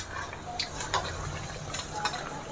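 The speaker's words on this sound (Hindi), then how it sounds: "इसी तरह से सारा फ्राई कर लेना है" Bhature frying in hot oil in a pan for a chole bhature recipe, a steady close sizzle with light scraping and stirring and no talk.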